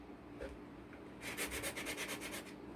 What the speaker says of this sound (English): I think I'm going to sand these guys a little bit